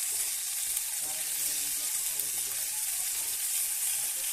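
Pomfret fish fries in hot oil with a steady, dense sizzle and soft bubbling crackle, close and continuous throughout.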